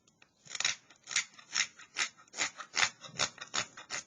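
A Mora 162 hook knife shaving peeling cuts from the bowl of a wooden spoon: a steady series of about a dozen crisp, scratchy strokes at an even rhythm, close and clear with no talking.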